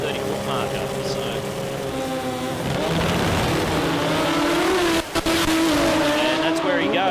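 Drag race cars with 13B rotary engines blast down the strip at the Sydney Jamboree sports compact meet, a loud sustained engine roar with rising harmonic whine, then throttle lift, crackle and a brief drop around the five-second mark, under commentary.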